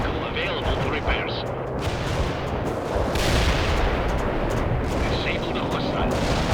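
Video game battle gunfire and artillery in World in Conflict: dense, continuous rumbling explosions and rattling shots at close range, with heavier booms swelling midway.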